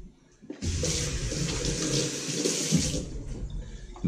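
Water gushes from a tap into a container to cover jerky meat, starting abruptly and pouring loudly and steadily for a couple of seconds before cutting off.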